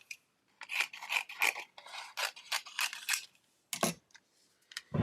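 Scissors trimming foiled paper die-cut pieces, a quick series of close, crisp snips and rasping paper cuts, with short pauses between bursts.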